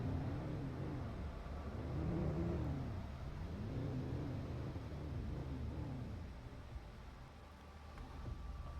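A car driven in the game Planet Crafter, giving a steady engine drone and whir with slow, wavering rises and falls in pitch, fairly quiet and continuous with no talking.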